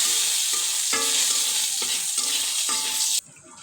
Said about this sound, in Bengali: তো আমি এখানে ফোড়নে একটু জিরে দিয়ে দিলাম, গোটা জিরে, আর 1 টুকরো দারচিনি।